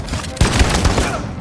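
Gunfire in the video game Detroit: Become Human, a burst of loud, close shots in quick succession that sounds like a short volley.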